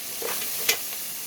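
Cooking oil, reused from frying milkfish and now holding ginger and onion, sizzles with a steady hiss, broken by a brief stirring scrape.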